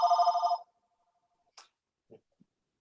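A mobile phone rings with a short electronic burst that cuts off quickly, followed by a few faint clicks in near silence.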